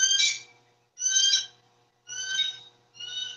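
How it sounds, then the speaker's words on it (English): A bird of prey gives four evenly spaced, shrill screeching calls, each about half a second long with a harsh harmonic edge, fairly close and loud against a quiet background. "That's the sound of the Eagle."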